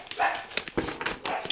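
Dogs in a home give a few short, sharp barks and yips close by, with bursts scattered through a brief, fairly quiet moment and no talk over them.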